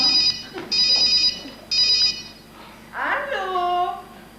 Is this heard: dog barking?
no